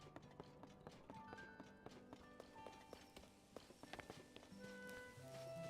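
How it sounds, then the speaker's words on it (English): Donkey hooves clip-clop steadily in Zelda: Tears of the Kingdom, a close walking rhythm of taps layered over game music and ambient tones. "This is a donkey."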